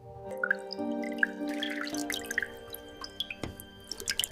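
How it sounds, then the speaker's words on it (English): A leaking tap drips into a sink, scattered bright plinks arriving irregularly and growing busier toward the end, close and fairly quiet over a low steady hum. "It's dripping faster now. It's louder."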